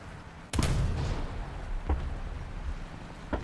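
War Thunder gunfire: a loud blast opens the shot, then a sustained rumbling echo carries on, with a second sharper report near two seconds and a small one at the very end.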